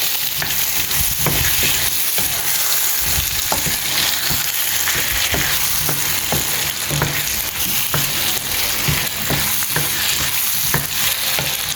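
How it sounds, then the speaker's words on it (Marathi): Prawns and potatoes fry on a high flame for a prawn chilli fry, a loud continuous sizzle broken by repeated scraping stir strokes throughout. "तर आतां एका दिया एक बरो मिक्स ऑन हाय फ्लेम."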